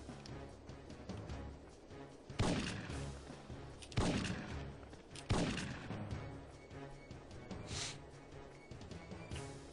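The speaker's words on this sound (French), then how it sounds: "J'aime bien le fusil de chasse." Three loud, sharp shotgun blasts ring out in a video game mission, near 2.4, 4.0 and 5.3 seconds, each with a booming tail, then a fainter shot near 7.8 seconds over a steady game background with no talk.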